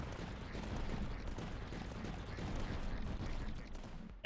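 Cannon fire in the video game Tower Dominion, a dense, continuous crackle of rapid shots blending into a busy wash of battle noise, fairly quiet and steady throughout.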